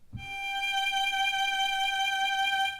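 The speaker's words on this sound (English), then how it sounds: "We leave a space in between and play the G." A single sustained G note bowed on a violin in first position, steady and clear from start to finish, with a rich stack of overtones and no talking.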